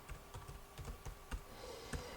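Fast computer keyboard typing while writing code, a run of crisp, irregular key clicks close up with no talking.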